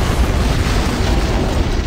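An antimatter charge explosion in a Halo video game cutscene, a loud, dense roar of rumbling blast that fills the whole moment, with no voices over it.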